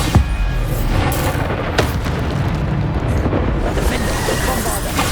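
Bombarda spell blasts in Hogwarts Legacy, booming explosions over a dense, continuous roar of combat effects, with sharp bursts near the start and middle.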